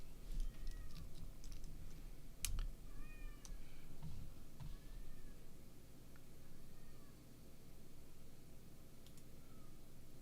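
A house cat meows several times in short, rising calls over steady computer keyboard typing and a low background hiss, moderately close but fairly quiet.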